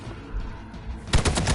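Rapid burst of gunfire from a Marvel's Midnight Suns battle, several sharp close shots in quick succession cutting in after a low rumbling game backdrop.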